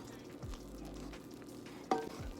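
Melting marshmallows and butter are stirred in a pot, making quiet scraping and soft sizzling with a couple of sharper clinks near the end, and no voices.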